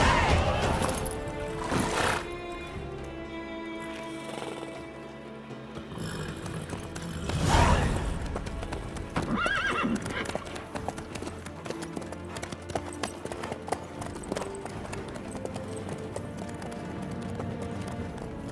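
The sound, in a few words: horse neighing and hooves clip-clopping in video game Witcher 3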